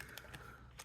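A plastic body shell snaps onto a Kyosho Mini-Z 4x4 chassis in a quick run of three or four small, close plastic clicks in under a second.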